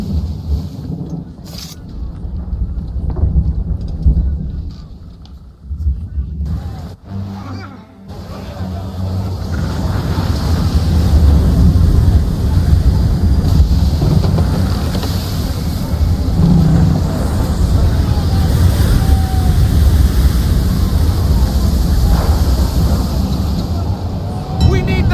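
Howling storm wind and heaving ocean at sea in Assassin's Creed III build into a loud, dense roar that fills the scene, with voices talking in the opening seconds.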